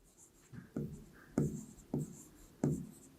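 Pen or marker strokes on a surface during a Class 8 maths lesson, with several distinct scratchy taps and scrapes spaced unevenly, close and fairly quiet, with no talk.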